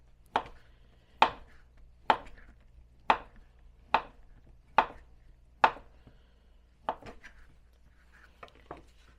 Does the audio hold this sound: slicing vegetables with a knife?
yes